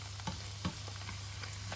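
Large green chilies cook in hot oil while being stirred for a sambal. A faint, continuous sizzle carries a few soft stirring knocks, with no talking.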